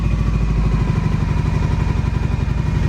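An abandoned, long-neglected motorcycle engine settles back to a steady idle after a quick throttle blip, a loud, close, rhythmic chugging with a rattling mechanical clatter throughout.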